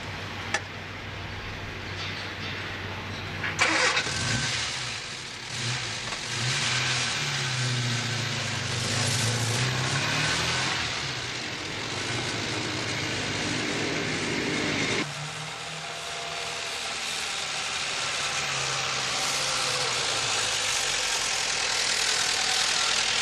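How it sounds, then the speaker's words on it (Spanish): An old car near Nottingham starts up, its engine first idling low, then running steadily with a continuous rumble and rattle as it drives off, loud and close throughout, with no talking. "en su antiguo coche se dirige a su casa"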